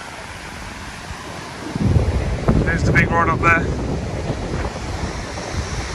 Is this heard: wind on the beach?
yes